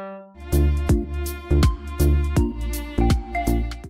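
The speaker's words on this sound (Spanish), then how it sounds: "Cuarto dedo en cuerda re tocamos la nota sol, pero este sol es natural" On a cello, a natural G is played on the D string with the fourth finger as a string of short, evenly spaced bowed notes. Each note is rich, resonant and close, with a clear attack and a brief decay.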